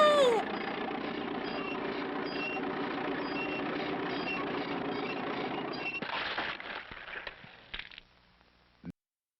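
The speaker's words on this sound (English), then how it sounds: "They ran over him with a steamroller." A steamroller runs over someone in an old educational film: a loud, continuous heavy engine rumble and grinding lasting several seconds, then breaking into scattered crunches and clatter that fade out, ending in a brief final thud.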